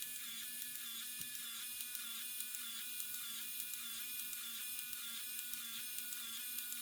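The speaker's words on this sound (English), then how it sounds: "These stickers can be then printed off using the Nintendo Game Boy printer." A Nintendo Game Boy printer prints a sticker, giving a steady, close electric buzzing whir with a faint rhythmic ticking that runs unbroken through the whole stretch, with no voices.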